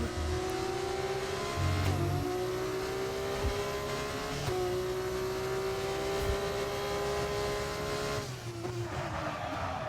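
Racing cars in a Formula-style racing video game, with engines droning and whining at high pitch as several lapped cars pass in steady succession, loud and continuous.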